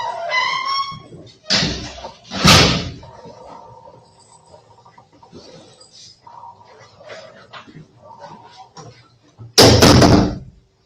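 A heavy jail door slams shut in a couple of loud, sharp metallic bangs, with another loud clang near the end and faint voices in the gaps.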